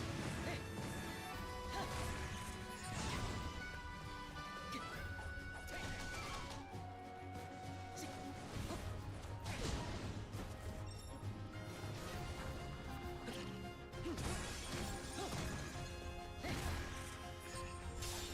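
Repeated heavy smashes and thwacks from weak point smash attacks in Hyrule Warriors: Age of Calamity, dense and loud over a busy game soundtrack, hitting in quick bursts throughout.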